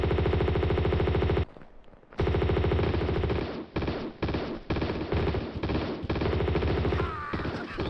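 Sustained automatic M16 rifle fire in Tomb Raider II, loud rapid bursts with a brief pause near the start and short gaps between volleys, game music or tones running underneath.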